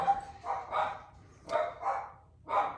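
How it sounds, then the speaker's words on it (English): Dogs barking in a handful of short, gruff bursts spaced unevenly, at a moderate distance and fairly soft, with no talking over them. "there goes the dogs"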